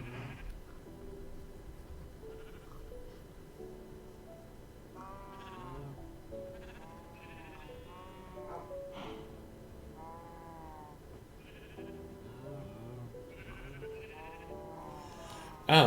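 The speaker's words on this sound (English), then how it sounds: "Minecraft donkey" Donkey mob sounds from Minecraft: a string of nasal braying calls at a moderate distance, repeating irregularly over a faint steady background, with no talk.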